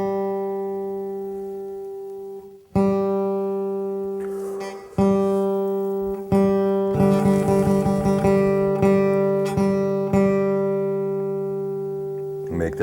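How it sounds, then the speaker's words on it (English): The G string of a steel-string acoustic guitar is plucked repeatedly while being tuned, each pluck ringing bright and decaying, with tone shifting slightly between strikes and faster strums later over about thirteen seconds; no speech. "Make that sound with your G string"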